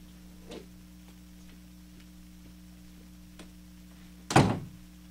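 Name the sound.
door being shut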